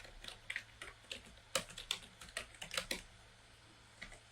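Computer keyboard typing while a target name is entered during a network reconnaissance lab: a quick run of close, crisp key clicks with short pauses, then one last tap, and no talking.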